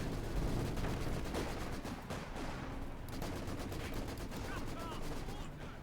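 Machine guns rattle in rapid, overlapping bursts amid a dense, continuous battle din in Company of Heroes 2, with other gunfire and distant blasts layered throughout.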